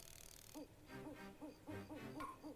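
An owl in the nighttime stage of Donkey Kong 64 gives a run of rhythmic, evenly spaced hoots over a soft game backdrop, clear and fairly quiet with no voices.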